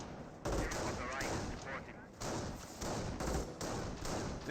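Gunfire in a Company of Heroes 1 World War II strategy battle between British and German Wehrmacht forces: repeated loud bursts and thumping shots in clusters, with chaotic overlapping battlefield noise.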